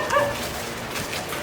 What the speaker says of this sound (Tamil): இப்போ இந்த நாய் குலைக்குது பாருங்க